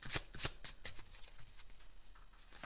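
Tarot cards are shuffled by hand in a quick series of crisp riffling bursts, close and fairly quiet, with no talking over them.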